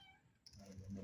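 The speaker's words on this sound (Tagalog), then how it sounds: "Ayun na pa itong pusa na to guys oh." A cat meows once, a faint high cry rising partway through, over low rumbling background noise.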